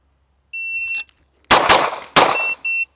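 Two sharp pistol shots from a gun with a red-dot sight crack toward steel targets. Shrill electronic shot-timer beeps come before and after them, and nobody speaks.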